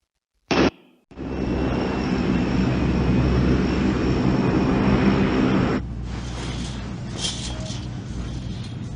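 Steady, loud propeller-aircraft drone from a played comic clip about a man's fear of flying, holding for several seconds after a brief sharp burst, then dropping to a lower rumble with hiss above.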